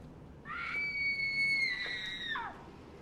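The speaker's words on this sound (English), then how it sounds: "How could you possibly identify the scream like that?" A drawn-out, high-pitched scream from the 2000 horror film Uzumaki (Spiral), sustained and steady for about two seconds before cutting off with a falling tail, loud and alone.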